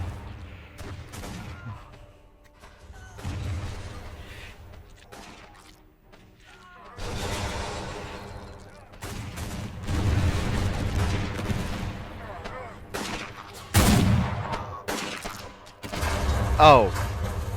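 Missile batteries firing in the airship strategy game Airships: Conquer the Skies, bursts of rapid popping launches and thudding impacts in uneven volleys with pauses between, moderately loud and alone without talk.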